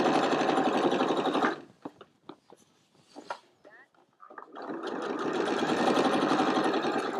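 Sewing machine stitching across a bag's false bottom, a fast steady whirring hum that stops for a stretch of soft handling noises and then starts again for several more seconds.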